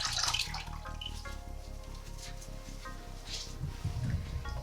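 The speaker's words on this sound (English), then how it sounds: "I would wet my washcloth" Water runs steadily from a tap to wet a washcloth for perineal care, a continuous soft splashing stream with faint dripping and light rustle, moderately quiet and close.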